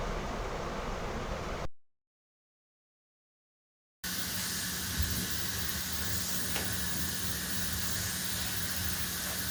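Steady, loud hiss of steam from a pressure cooker boiling potatoes, a continuous broadband rush that cuts out completely for about two seconds and then resumes just as strongly.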